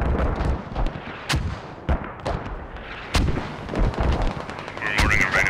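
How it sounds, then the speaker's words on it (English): Mortar rounds fire and land in the military shooter game Squad, a series of heavy booming blasts at irregular intervals, some near and sharp, others duller, over a constant battlefield background. "Mortars being utilized as normal from double FOBs."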